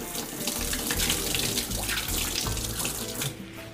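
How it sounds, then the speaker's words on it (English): Cold tap water gushes steadily over fresh rosemary sprigs held under a kitchen faucet, a loud, close, continuous splash that thins out near the end. "Rinse it under cold water."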